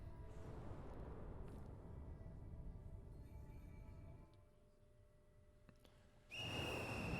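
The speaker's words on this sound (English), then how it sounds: "As the monstrous little raincoat visitor blows his whistle, he steps back into the shadowy darkness" A raincoat-clad visitor creature from the game Ghostwire Tokyo blows a shrill, steady whistle that bursts in loudly near the end, after a stretch of dim, rumbling ambience.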